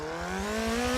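Race car engine from the Forza Motorsport 7 demo, a steady rising drone with clear harmonics climbing in pitch as it accelerates over a pulsing low throb, loud and close with no talk.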